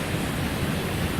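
A waterfall where bears fish for salmon rushes in a steady, dense wash of noise, close and unbroken.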